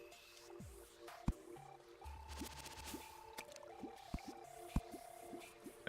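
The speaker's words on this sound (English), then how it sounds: "Let this water drain real quick." Water drains away in Terraria's blocky cave world, with soft liquid squishes and drips over low game ambience, plus scattered clicks and brief tonal blips, no voices.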